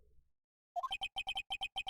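Phone ringtone in the Phoenix Wright: Ace Attorney video game: after a short silence, a rapid electronic warble starts and repeats in evenly spaced double pulses, clear and alone.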